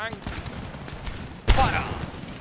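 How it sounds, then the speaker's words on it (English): Musket volleys fire in the strategy game Empire: Total War during the Battle of Milan, with scattered crackling shots, then a sharp loud fusillade midway that rolls off into echoing reports. "now the volleys are coming back at them"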